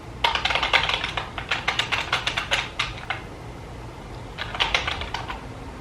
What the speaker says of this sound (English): So we're going to go and type in some random name